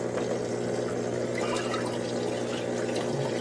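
Water backwashing in a half-floating aquarium tank, a continuous loud rushing and gurgling flow with no breaks, steady throughout.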